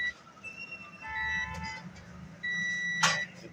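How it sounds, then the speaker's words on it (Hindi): A treadmill circuit board with a faulty transistor gives off thin, steady electronic beep tones that come and go over a low background hum. "ये टूं की आवाज़ आ रही है, बीप आ रही है"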